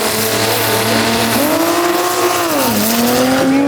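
A Toyota Supra race car from Texas drives at a race, its engine note loud and close, rising and falling through gear changes in a steady, rasping roar.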